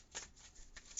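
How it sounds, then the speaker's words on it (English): Karmic cards shuffled for a card reading: two soft riffling bursts, the second ending in a brief tap, close and quiet. "I'm going to pull some cards"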